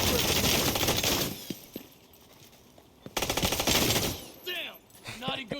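Automatic gunfire in Division 2 during a fight with a deflector shield tank build. Two long, loud rapid-fire bursts are split by a brief lull, with shorter chirping game effects near the end.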